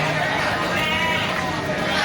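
Sheep bleat amid the busy murmur of a crowded livestock market, heard through steady background chatter and a voice talking close by.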